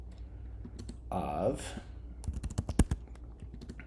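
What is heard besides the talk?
typing on a computer keyboard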